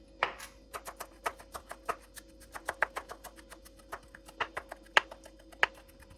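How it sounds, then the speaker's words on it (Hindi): Knife finely chopping coriander on a board, rapid light taps in an uneven quick rhythm, close and fairly soft, with no talking. "धनिया को हम बारीक बारीक काट लेंगे।"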